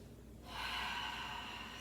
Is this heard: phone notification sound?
no